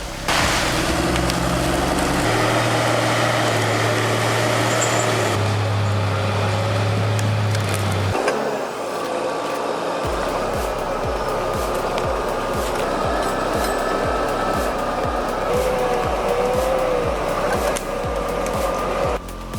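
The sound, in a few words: logging forwarder machine engine dragging pine logs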